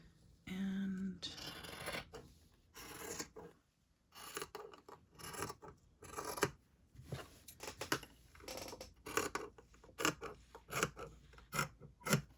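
Scissors snip through paper along a dotted line, each cut a crisp rasping stroke, with steady repeated snips and brief pauses between them, close up and fairly quiet.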